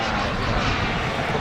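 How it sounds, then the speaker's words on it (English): Scale model F4 jet aircraft landing at an outdoor airshow, producing a loud, steady broadband engine roar that holds continuously for the moment with no break. "beautiful landing from the F4 there."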